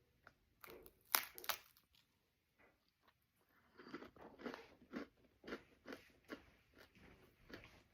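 Close, crisp crunching as someone bites into a dry lebkuchen spiced cookie, a few sharp bites followed by a steady rhythm of crackly chewing.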